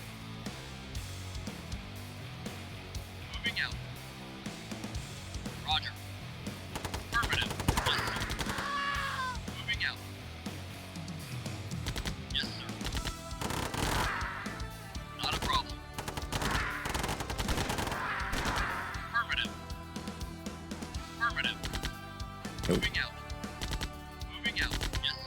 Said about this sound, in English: The guns that these soldiers are wielding definitely does not sound like a minigun.